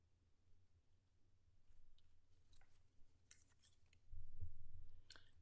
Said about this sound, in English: So just use your paper snips and snip some of that off.